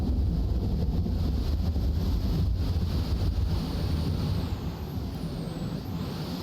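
A waterfall rushes in the video game The Infected, a dense, steady broadband roar that stays loud and constant throughout with no talking.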